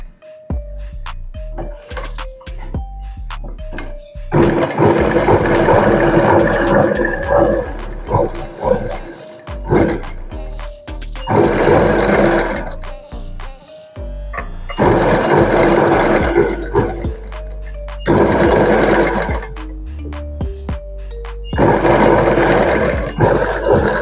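A sewing machine stitches the lining of an Aari-work blouse, running in several long loud bursts with short pauses between, its steady whirring motor mixed with occasional faint tones.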